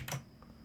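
A computer keyboard gives a quick burst of clicky keystrokes, then a couple of softer taps, close and fairly quiet in a still room.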